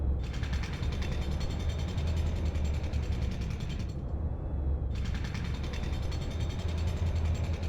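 A machine in a game, working like a 3D printer in reverse, strips away material layer by layer with a continuous mechanical grinding and ratcheting clatter. The sound pauses briefly partway through and then resumes, steady and fairly loud, with no voices.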